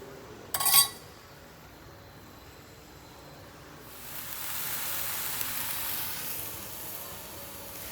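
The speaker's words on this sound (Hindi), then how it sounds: "सारी सैंडविचेस के ऊपर ब्रेड घी पो कर दूँगी और दोनों तरफ से अच्छे से ब्राउन हुए जब तक मैं इसे सेकूँगी" Sandwiches toasting in ghee on a hot pan give a soft, steady sizzle and hiss that swells after a brief clink of utensils near the start, continuing at low level.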